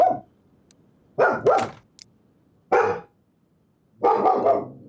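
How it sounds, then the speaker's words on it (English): A dog barks in the middle of a garage-mechanic game session, several loud, close barks arriving in separate bursts with short silent gaps between them. "Well, now we know we have a dog."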